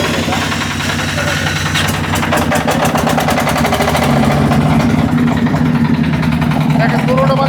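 A three-wheeled generator engine runs loud and close, a steady rumbling idle with a knocking pulse that picks up rhythm partway through, and someone speaks over it.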